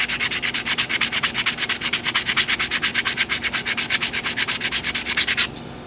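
A vintage water-damaged knife is sanded with 180 grit sandpaper in fast, even back-and-forth strokes, loud and close, a continuous rhythmic scratching that stops just before the end.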